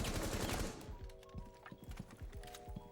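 Rapid gunfire from a weapon in Rainbow Six Siege, a loud dense burst for the first second followed by quicker scattered shots and clicks with a steady hum underneath.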